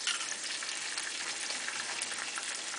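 Eggs sizzle steadily in a hot pan while being cooked for fried rice, a constant dense crackle at moderate level with no voices.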